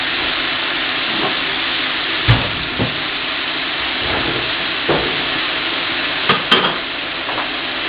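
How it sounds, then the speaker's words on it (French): Wine hits a hot pan with sage and bay leaf for deglazing while making filet mignon en croûte, giving a steady sizzling hiss with a few scattered clinks and stirring knocks, close and continuous. "vous ajoutez la sauge, le laurier et vous déglacez tout avec du vin"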